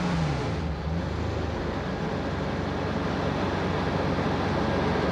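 A BMW 750iL car idling during a tune-up, its engine giving a steady, loud, continuous rumble with a low hum throughout, no voices over it.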